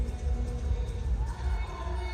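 A hockey stadium crowd in the Hero Hockey India League, women's match, keeps up a dense, continuous roar of cheering and chatter that hangs steadily in the background throughout.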